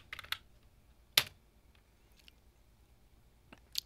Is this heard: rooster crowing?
no